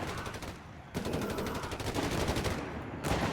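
Dense rifle and machine-gun fire from a Company of Heroes 3 battle, with riflemen attacking Panzergrenadiers, crackles in continuous rapid bursts with a brief lull.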